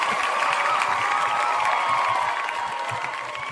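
Audience applause and cheering from a crowd, a steady dense wash of clapping held at an even level throughout with some voices mixed in.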